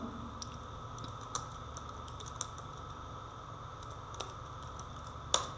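Someone types a song name on a computer keyboard, producing sparse, quiet key taps at an uneven pace over a steady low room hum.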